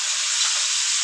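Spices for egg curry frying in a pan, a steady, close hissing sizzle that holds evenly without breaks and has no talk over it.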